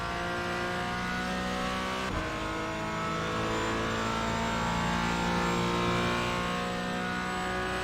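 Porsche race car in the iRacing sim powering out of a corner, a loud steady engine note holding high revs with a brief shift blip early on, continuous and close with no talk.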